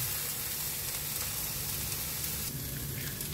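A Filipino okra omelette, tortang lady finger with egg, fries in a pan, giving off a steady close hiss and crackle of sizzling oil with no voices.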